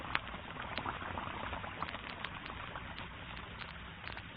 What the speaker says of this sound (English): almost at once the flakes melt into a soft, frothy mass of bubbles